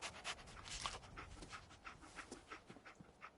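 Dogmeat, the canine companion in Fallout 4, panting in quick rhythmic breaths, steady and fairly close, with no voices over it.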